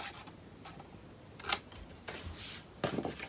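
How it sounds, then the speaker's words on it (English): Scissors snip through a paper corner in a few quiet, separate cuts, with soft paper rustling and handling sounds between them. "we have to cut here the corner"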